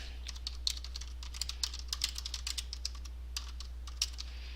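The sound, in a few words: typing on a computer keyboard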